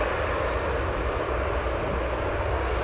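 A heavy airliner lifting off at O'Hare Airport, a loud steady jet engine roar holding close and unbroken throughout, with no talk.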